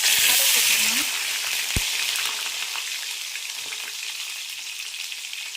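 Cumin seeds sizzle in hot oil for dal rice, a bright, dense crackle that starts loud and eases slightly, with a single sharp knock early on and no speech.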